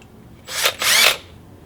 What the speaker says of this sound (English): Drilling hole.